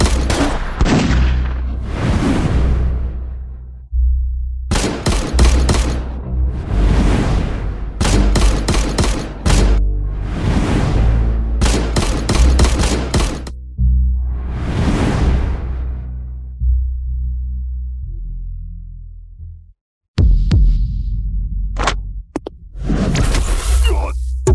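Loud bursts of gunfire from several weapons aimed at a man, fired in long volleys and short bursts through a fight on a mountain, with brief lulls between volleys and a sharp cutoff near the end.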